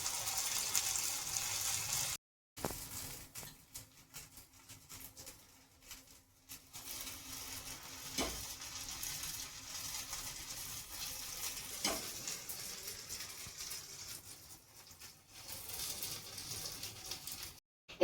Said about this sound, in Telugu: ఇప్పుడు ఈ బ్యాటర్ ని ఆయిల్ వేసుకున్నాం